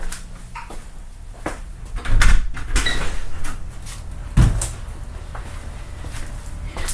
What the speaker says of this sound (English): then I need to go open this door so I can see out into my field